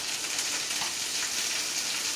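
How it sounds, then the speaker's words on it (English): Chopped onion pieces sizzle in a hot pan, a steady hissing crackle that stays even and moderately loud throughout with no voices. "I'm going to throw some onion shards in there"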